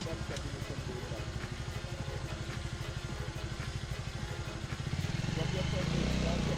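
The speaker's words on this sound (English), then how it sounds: "Gas up the bike" Motorcycle engine during a hill start, a close, rhythmic chugging idle that swells into a throatier rev near the end.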